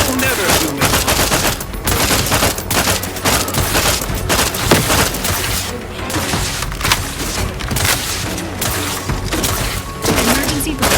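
Sustained heavy gunfire from The Outer Worlds 2: rapid automatic bursts and overlapping shots with occasional booms and thuds, dense and loud throughout, with a voice talking over it.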